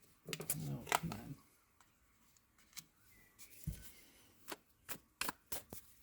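Tarot cards are shuffled and drawn by hand: a burst of riffling near the start, then scattered soft snaps and slaps as single cards are pulled and laid down, close and quiet, with a voice speaking now and then.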